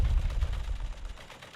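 Game turret opening fire on enemy heavy mechs, a loud, heavy burst of rapid low booming shots that fades over about a second and a half.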